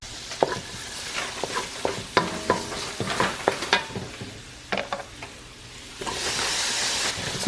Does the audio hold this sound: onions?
yes